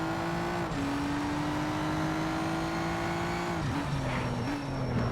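A Porsche race car engine in the racing game Need for Speed: Shift drones steadily and loudly throughout, its pitch climbing through gears with brief dips at shifts, alone without talk.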